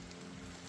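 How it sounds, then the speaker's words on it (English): Steady rain falling outdoors, a dense even hiss of drops on surfaces with no breaks, heard alone with no voices. "it started raining"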